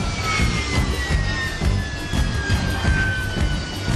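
A Harrier jump jet's engine gives a loud, continuous roar with a high whine gliding slowly downward, steady and close throughout.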